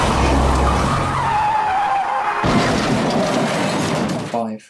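A car in a Unity horror game skids with a long, loud tire squeal that slides downward in pitch, then a crash hits, followed by a brief rattle of debris and an abrupt cutoff into silence.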